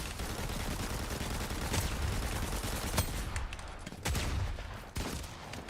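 Rapid, continuous gunfire in a Fortnite match as shots pound player-built structures, a dense crackling stream with sharper individual reports, close and loud with no talking over it.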